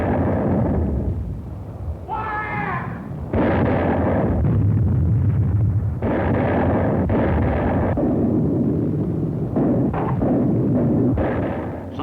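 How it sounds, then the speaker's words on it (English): Howitzer artillery fire during a World War II Pacific battle on Palau, with repeated heavy booms and rumbling blasts rolling one after another in a loud, dense barrage. "The crescendo of the howitzers prefaced each new attack."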